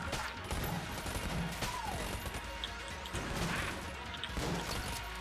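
Enemies fire continuously in the video game Enter the Gungeon, a dense, unbroken wash of gunfire with sharp cracks and thumps layered over steady game noise.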